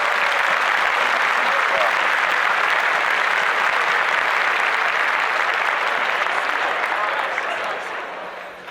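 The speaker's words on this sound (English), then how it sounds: "Round of applause for everybody that made it." Dense applause from a crowd rolls on steadily for several seconds before fading out at the end.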